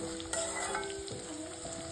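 Spice paste for Nagpuri Saoji-style dal kanda sizzles steadily in a pan, a close, continuous frying hiss with light stirring scrapes throughout.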